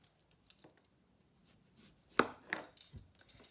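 A sharp knife cuts and scrapes the fibrous skin off a jicama on a board, quiet at first, then a few louder crisp slicing strokes and taps close up.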